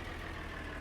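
A tractor engine in Farming Simulator 2013 drones in a brief, steady, even hum with no voices.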